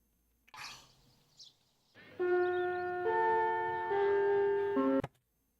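A sustained bright electronic chime tone rings steadily for about three seconds in an anime scene, stepping in pitch partway through, after a brief soft vocal sound and ending with a click.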